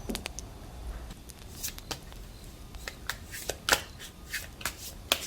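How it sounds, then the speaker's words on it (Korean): Tarot cards are shuffled and drawn by hand: a quick run of crisp riffling snaps and soft slides, close and fairly loud, with uneven bursts. "한번 추가 카드 뽑아 보겠습니다."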